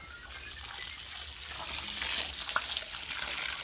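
Water squirted under pressure to flush out an abscess on a pig, a steady broadband gushing spray running throughout, growing slightly louder toward the end, with no talk.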